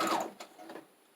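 A sewing machine with a feed dog struggling to grip cardstock while stitching a junk journal insert, giving a short burst of mechanical whirring that fades into a few soft clicks and taps, close and fairly quiet.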